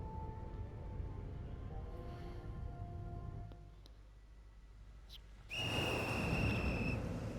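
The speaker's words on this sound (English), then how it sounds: "As the monstrous little raincoat visitor blows his whistle, he steps back into the shadowy darkness." A raincoat-clad monstrous visitor in the video game Ghostwire Tokyo blows a whistle, a sharp shrill blast late in the clip over a low droning, humming background.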